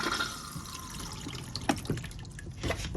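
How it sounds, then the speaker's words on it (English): Flush fluid trickling and swirling through a motorhome toilet bowl, a steady close wash of running liquid with a few drips and splashes. "Push this button down to get the flush fluid to come round"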